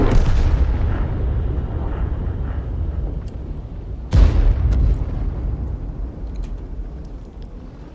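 An artillery shell explodes in World of Tanks: a heavy rumbling blast decays away, then a second sharp, loud boom strikes midway and fades into a long rolling tail.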